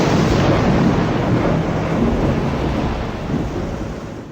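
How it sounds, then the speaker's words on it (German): Thunder in the Die Siedler 2 video game intro, a loud, continuous, broad rumble that rolls on steadily and slowly fades, with a rain-like hiss. "Als ein Blitz hinter den viel zu nahen Klippen aufzuckte."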